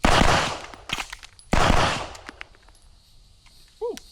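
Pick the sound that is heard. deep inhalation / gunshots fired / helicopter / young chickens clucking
gunshots fired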